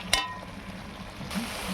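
Spice paste for a meat curry fries in hot oil with a soft, steady sizzle, stirred once with a sharp clink of the spoon against the pan near the start, then a brief swell of scraping and stirring near the end.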